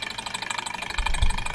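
A small Stirling engine running on hot water, a steady, fast, rhythmic mechanical chugging close by with a low thump near the end, no talk.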